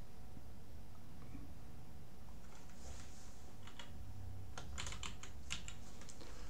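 Steady typing on a computer keyboard while renaming a shared folder, with quiet scattered keystrokes at first, then a quick run of crisp, close key taps over a constant background hum.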